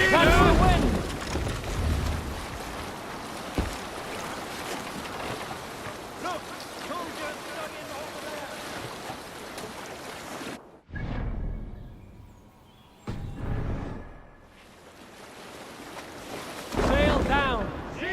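A Viking ship under sail at sea in the video game Assassin's Creed Valhalla, with steady rushing wind and waves washing past the hull for about ten seconds, then a quieter stretch broken by short gusts and splashes.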